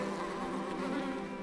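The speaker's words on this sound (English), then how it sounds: "It has a beehive." Bees buzz at a beehive in Book of Hours, a thick, continuous drone of many insects humming together. It is steady and fairly loud, with no voices over it.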